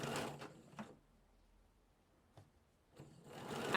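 A sewing machine runs briefly in bursts at the start and end of a skirt seam, locking the stitches, with a quiet pause between the close mechanical whirs.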